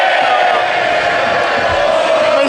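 Members of Parliament in the House of Commons cheer and bellow together, a dense, loud wall of crowd noise that holds steady throughout.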